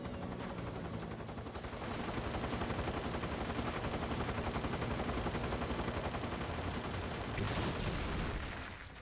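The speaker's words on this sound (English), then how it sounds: "Okay, something's shooting at me." Sustained, loud, dense rapid gunfire fills the scene in a video game, mostly machine-gun bursts layered with other shots, running continuously for several seconds with no voices.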